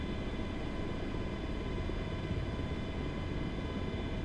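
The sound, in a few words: MH-60 helicopter engine and rotor, from a video game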